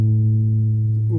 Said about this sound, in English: pluck the open A string again